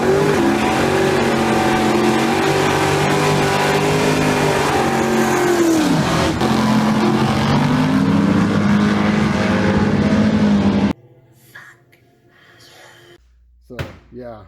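A car engine roars loudly and steadily, its pitch rising and dipping as it revs, then cuts off abruptly, leaving quiet with a few faint knocks and a brief low thump near the end.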